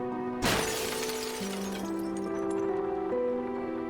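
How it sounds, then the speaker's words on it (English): A sharp, loud shatter bursts out as a character's face breaks apart in the fishing horror game DREDGE, followed by a long ringing, crumbling tail under sustained game music. "His face shatters and falls to the ground."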